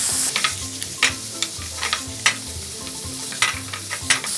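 Young radish and pork stir-fried with doenjang sizzle steadily in a pan, with repeated scraping and stirring strokes knocking in a loose rhythm over the close, continuous frying hiss.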